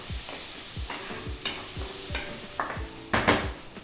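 Cumin seeds and finely chopped ginger fry in a pan for paneer bhurji. A steady sizzle runs under repeated rhythmic scraping strokes of a spatula, growing louder toward the end.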